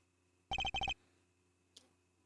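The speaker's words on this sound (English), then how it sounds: "Mr. Edgeworth, that's Judge Gavell's cell phone." A cell phone rings in the Ace Attorney Investigations video game: a short electronic ringtone of rapid repeated beeps in two quick bursts, followed by quiet and a faint click.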